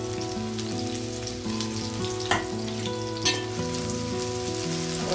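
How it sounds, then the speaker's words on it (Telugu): Chopped onion and carrot sizzle steadily in hot oil in a home kitchen pan, a close, continuous crackling hiss with occasional sharper pops and a clink of utensils, no talking. "ఆయిల్ హీట్ అయ్యింది, ఆనియన్ వేసాను. ఆనియన్తో పాటు క్యారెట్ కూడా వేసేస్తున్నాను."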